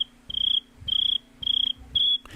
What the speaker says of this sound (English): You're playing crickets